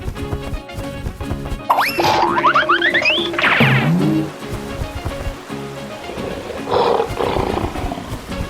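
A cartoon lion lets out a loud, close roar mixed with springy, sliding boing effects and playful music, the roar swelling and bending in pitch before fading into a softer musical tail.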